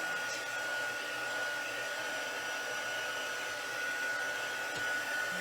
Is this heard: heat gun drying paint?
yes